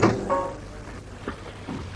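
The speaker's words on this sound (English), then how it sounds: "Shut that door." An office door swung shut, a few soft thuds and knocks close by in a quiet room, without talking.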